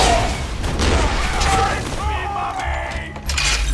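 Slag rockets fired in Borderlands 2 by Axton, a dense run of loud booming blasts and cracking impacts layered with mechanical clatter, continuous throughout with a fresh burst near the end, and a voice talking underneath.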